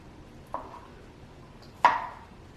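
A knife slices through a sushi rice roll to trim off the edges, two separate cuts on a board, the second sharper and louder, close up with no talking.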